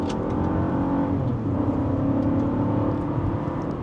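A 2025 Buick Envista SUV accelerates steadily in L2, its engine droning at a sustained, even pitch from inside the cabin with road and wind noise underneath and no talking.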